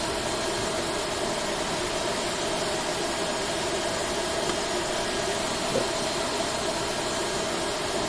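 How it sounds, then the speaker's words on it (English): Airbus A320 jet engines in the Flight Simulator X game, parked after a flight and spooling down, produce a constant whooshing engine hum with a broad hiss, steady and loud throughout without any talking. "Now those engines are spooling down here."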